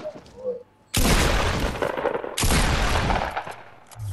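Two loud, broadband bursts of gunfire from a Fortnite Battle Royale gunfight, each a dense roaring volley lasting over a second, the second following the first closely, with brief quieter game sound before and between.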